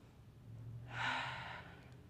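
A single audible breath taken while holding a pose in a power flow yoga session, a soft airy rush that swells and fades over about a second, close and quiet against faint room hum.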